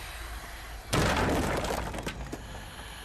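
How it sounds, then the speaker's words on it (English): Windows smashing in the Blair Witch video game: a loud sudden crash of breaking glass, followed by scattered tinkling shards and smaller impacts as the debris settles. "Window smashing."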